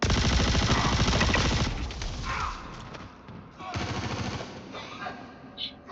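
Automatic gunfire from a gun in a video game, dense rapid bursts rattling loudly for a couple of seconds, then a quieter stretch and a second burst, with players talking over the shooting.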